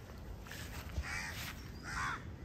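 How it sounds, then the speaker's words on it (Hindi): Several crows caw from a tree above a spot where food has been set out for them, two drawn-out calls standing out against steady outdoor background noise. "और कौवे इधर बहुत सारे कौवे हैं, देख सकते घूम रहे सारे इस पेड़ में।"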